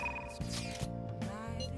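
A phone notification chime from Persona 5 Royal rings out as a short run of bright tonal beeps and jingles over soft game music, with faint background sound between the tones.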